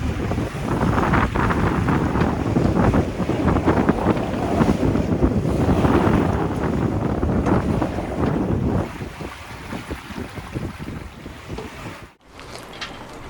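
Strong wind roars across the microphone aboard a sailboat in building whitecaps, with waves rushing and splashing continuously against the hull, loud and close, easing slightly toward the end after a brief sharp dropout.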